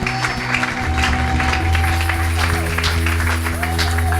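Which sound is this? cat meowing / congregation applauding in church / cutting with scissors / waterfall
congregation applauding in church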